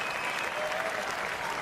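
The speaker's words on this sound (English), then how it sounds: "he's getting a standing ovation from this crowd at the O2" A crowd at the O2 arena in London gives a standing ovation at a FIFA 18 world championship final, a brief burst of dense, loud, sustained applause.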